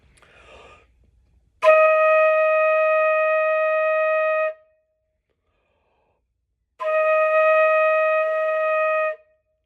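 Two long, steady flute notes on E flat, each held for about three seconds with a pause between, clear and close after a soft breath.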